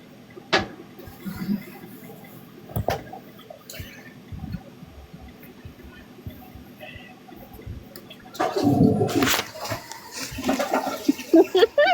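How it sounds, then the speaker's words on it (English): A toilet flushes in the background with a rising rush and gurgle of water toward the end, after scattered clicks and knocks, while people talk nearby. "Was that a toilet that just flushed?"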